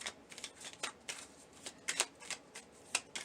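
Tarot cards riffled and drawn from the deck in a run of quick papery flutters and flicks, several bursts over a few seconds, close and fairly quiet with no voices.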